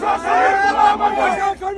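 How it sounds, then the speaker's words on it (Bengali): A crowd at the Central Shaheed Minar on the night of 21 February chants a slogan in unison, loud massed voices rising and falling in a rhythmic, shouted cadence. "21শে ফেব্রুয়ারি রাতে কেন্দ্র শহীদ মিনারে কিছু মানুষ ভাষা সৈনিক গোলাম আজম বলে স্লোগান দিল"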